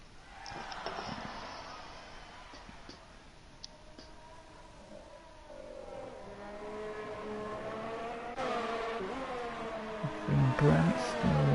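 Simulated Formula 1 car in a Japan round of a racing video game, engine droning steadily and rising in pitch through upshifts on the final lap, under continuous commentary from a race caster.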